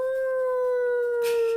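A human voice imitating a wolf howl, one sustained steady wavering note held loud and close, ending with a breathy rasp.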